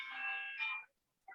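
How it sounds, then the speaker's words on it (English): A phone ringing indoors with a steady electronic trill in two bursts, clear and fairly loud, then a short pause before a brief third chirp begins. "phone just rang"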